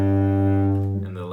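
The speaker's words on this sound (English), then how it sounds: "Third string is a G." A cello's open G string is bowed in a single low, resonant sustained note, full and close, that holds steady before the bow lifts and the tone breaks off into a brief scrape.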